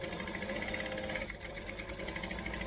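Sewing machine stitching a tote bag, running in a fast, even, continuous mechanical rattle with one brief dip midway, fairly quiet and steady throughout.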